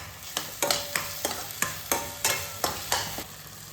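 Onions frying in a pan, a steady close sizzle broken by regular scraping strokes of a spoon stirring them, about ten even stirs across the span with no talking.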